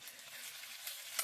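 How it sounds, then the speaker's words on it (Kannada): Green chillies frying in hot oil in a kadai for chutney give off a continuous close sizzle and hiss with a small stirring bump near the end. "ಒಂದು ಕಡಾಯಿ ಇಟ್ಕೊಂಡು ಮೆಣಸಿನ್ಕಾಯಿ ಹುರ್ಕೋಬೇಕು."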